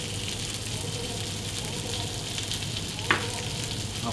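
Chicken with chili pepper and grilled onions sizzles and crackles steadily in a hot pan, a close, continuous frying hiss with one sharper pop near the end.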